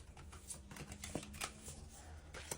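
Playing cards being pulled from a deck and handled, a run of quick, soft papery flicks and snaps at close range.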